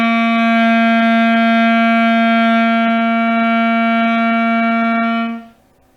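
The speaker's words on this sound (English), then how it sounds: "Our C note should sound like this." A beginner's clarinet holds a single sustained C note for about five seconds, steady and loud with a rich reedy tone, then cuts off into silence.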